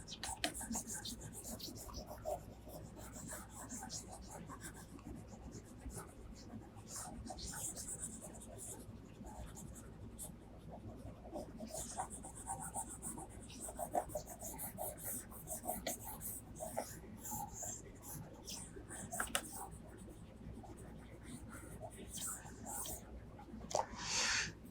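A pen drawing and scratching across a paper page, a soft steady scribble running throughout with occasional sharper strokes, under a quiet voice.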